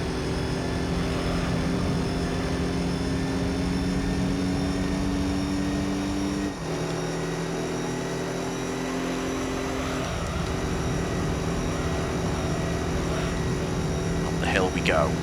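A race car's engine in Gran Turismo 3 drones steadily with harmonic tones, dipping sharply at one upshift through long gears and then climbing again, while someone talks over it throughout.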